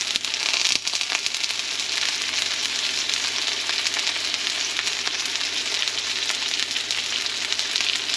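Duck burgers fry in a pan, giving a steady, loud sizzle and crackle that runs without a break, with a couple of sharp pops near the start and no voices.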